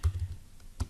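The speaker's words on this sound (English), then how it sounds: "I'm going to go ahead and just type out" Quick keystrokes on a computer keyboard, a short burst of close, crisp clicks with a brief pause before a final pair.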